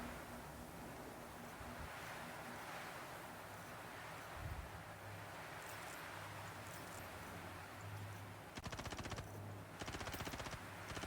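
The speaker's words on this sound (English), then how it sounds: "Oh, I'm being shot at." Gunfire in the StarCraft mod Terracraft: rapid bursts of automatic shots crackle near the end over a steady windy, surf-like background hiss, with a single sharp report earlier.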